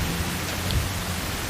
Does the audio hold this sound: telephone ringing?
no